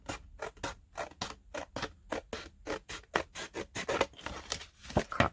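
Scissors snip through a paper card in a quick, steady run of about twenty crisp cuts, close and fairly quiet, with no talking.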